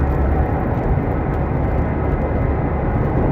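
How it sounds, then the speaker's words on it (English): An airplane takes off, a loud, steady broadband roar of jet engines filling the air without a break, close and unchanging throughout. "there's a plane taking off"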